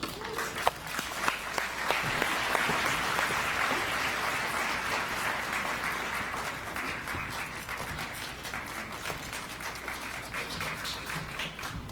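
Audience applause at the Amnesty International USA annual general meeting as a speaker is welcomed to the stage, sustained dense clapping filling the room for several seconds.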